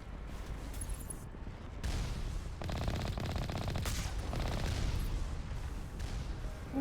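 Sustained rapid gunfire crackles and booms in Mass Effect as enemies shoot at the player, with dense bursts of shots over a rumbling low-end backdrop.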